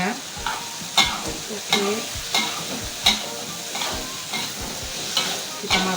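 Shrimp stir-fried in a pan for a spicy shrimp and tofu dish, with steady sizzling and repeated scraping stirs at a regular rhythm, close and fairly loud, and a single brief spoken word.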